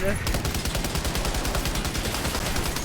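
Sustained rapid gunfire in the video game Death Stranding 2, a loud rattling burst of evenly spaced shots that carries on without a break after a brief lead-in.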